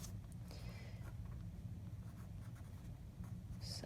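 A pen writes a deposit note on a paper cash envelope, a soft, steady scratching that runs close and continuous against low room noise.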